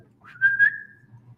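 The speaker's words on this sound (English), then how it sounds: "I don't know why I whistle." A person whistles a single rising-then-level call to summon a dog named Tip, clear and fairly close, lasting under a second over a low background hum.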